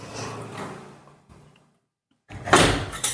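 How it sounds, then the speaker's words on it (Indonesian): A door being closed indoors: shuffling and movement, then a sudden drop to near silence followed by a loud close thud and rattle near the end. "Tutup pintu."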